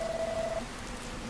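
Rain falls in the video game Dragon Quest Builders 2 as a soft, even patter, faint and continuous, with a short thin tone at the start.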